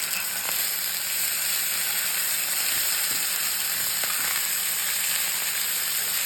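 Chicken fries in a pan with a constant, fairly loud sizzle, crisping on both sides as it is flipped. A few faint clicks and taps from turning the pieces sound over the steady hiss, with no talking.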